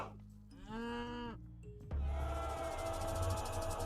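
A cow lows in a video game in which cows are herded toward a temple and town center: a clear, drawn-out moo stands out alone, followed by a low ambient game hum and soft background tones.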